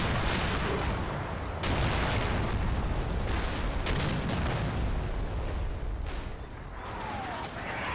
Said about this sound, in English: Some spotting rounds going in